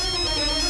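A phone ringtone sounds in a Tamil TV serial, a brief steady electronic tone, clear and alone.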